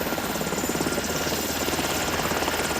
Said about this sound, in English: or a Black Hawk helicopter.